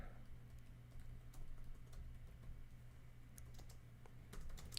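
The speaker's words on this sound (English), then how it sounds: "Maybe I should type something for people." Steady clicking of keys on a computer keyboard, faint and close, running continuously under a low constant hum.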